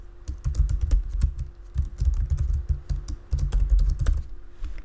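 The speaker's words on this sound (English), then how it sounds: "I will start typing first name." Rapid, uneven keystrokes clatter on a computer keyboard while a name is entered into an Excel spreadsheet, arriving in close bursts with short pauses between them and no talking.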